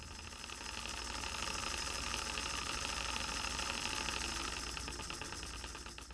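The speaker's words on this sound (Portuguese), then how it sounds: "Quando ligamos o aparelho e aumentamos gradativamente a velocidade de rotação do motor, o pistão começa a se movimentar dentro do tubo" Motor of a kinetic gas theory demonstration apparatus runs with a steady loud whirring, driving a piston in a tube, with an even rattling vibration throughout.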